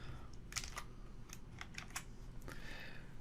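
A few quiet, crisp computer keyboard key clicks pressed in quick succession to save a file, faint against a steady low background hum.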